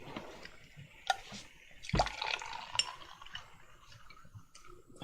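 Non-alcoholic wine poured into a glass: a faint, soft trickle of liquid with small clinks, heard quietly in a room.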